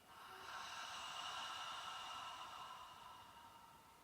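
A long, steady Ujjayi ocean-breath exhalation flows out through a constricted throat, a soft breathy hiss that swells and slowly tapers over several seconds, close and quiet with no talking.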